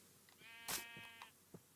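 A Minecraft donkey lets out a short, faint, nasal bray with a wavering tone, followed by a few soft scattered sounds.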